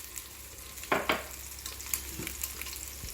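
Boiled eggs roast in a pan with chili powder and salt for a Kerala egg roast, giving a soft, steady sizzle with a few louder crackles and pops.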